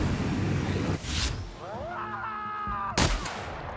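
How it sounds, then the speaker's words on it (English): Shotgun blasts in the video game The Outer Worlds, two loud booming shots about two seconds apart, each with a short decay, with whirring game effects and a steady background hum between them. "Oh, that shotgun is so satisfying."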